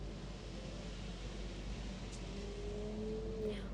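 A car pulling away in the video game Celestia - Chain of Fate: a quiet, steady engine hum under light hiss, its pitch climbing smoothly near the end as it speeds off. No one speaks.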